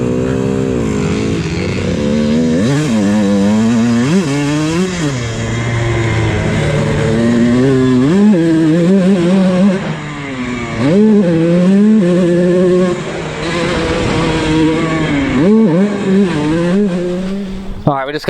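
A Kawasaki KX125 two-stroke dirt bike being ridden, its high-pitched engine revving up and down continuously through gear changes, loud and close throughout, with a rider's voice occasionally mixed in.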